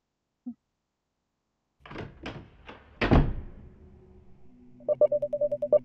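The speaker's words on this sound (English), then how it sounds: "I stormed into the apartment and slammed the door behind me" An apartment door is slammed shut by someone storming in, giving a few sharp, loud thuds and rattles close by, followed by a short run of rhythmic tapping and clicking.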